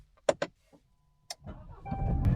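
Volkswagen Golf R starting up: a couple of sharp clicks and a short whir, then the engine catches and rises into a building rumble as the car pulls away, close and fairly loud.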